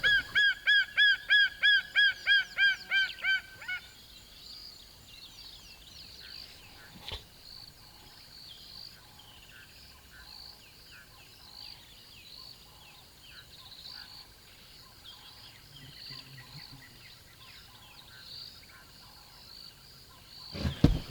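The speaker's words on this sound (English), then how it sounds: "there's the young marshal calling and calling and calling, seemingly for food" A young martial eagle calls for food in a series of about eight rapid, high, ringing cries near the start, then faint scattered calls and bush sounds follow, ending in another brief burst.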